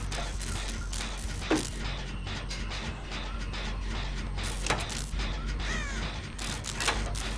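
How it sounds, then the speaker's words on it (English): In the Dead by Daylight game, a crow caws several times and flaps away, its sharp calls and wingbeats cutting briefly through a steady, loud ambient rumble. "Bird flies away again, it does."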